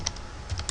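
Quick computer keyboard keystrokes tapping out a search query, a handful of light clicks close up in a quiet room.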